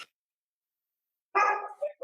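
A dog outside an apartment gives a short burst of barking, a loud bark followed by a quicker second yelp, after a stretch of near silence.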